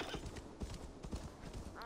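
Horse hooves galloping in the game Assassin's Creed Valhalla, a steady quick clip-clop close by with a brief whinny near the end, with no voices over it.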